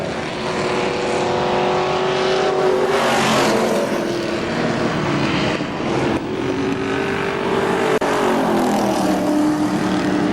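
Race cars at KilKare Speedway roar around the track in a late-race battle, engines droning and rising as several cars pass close by in a continuous, loud pack with no talk over them.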